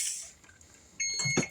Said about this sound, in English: Turn that timer off.